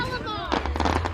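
Fireworks bursting close by in a quick crackling cluster of sharp pops over a low rumble, with a voice talking over the start.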